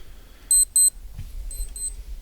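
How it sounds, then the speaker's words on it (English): A digital wake-up alarm clock beeps in two short bursts of paired high tones, pauses, then repeats the pattern more faintly, with a low background rumble and no talk. "there's my wake up alarm"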